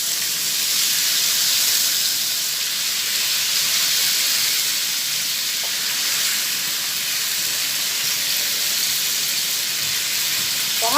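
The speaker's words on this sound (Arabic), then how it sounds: "بعد ما الزيت عندي سخن كده في الطاسه هنزل بقى بالفراخ" Chicken pieces frying in hot oil in a pan make a steady, loud, broadband sizzle and hiss that holds for several seconds, close and unbroken, with no voices.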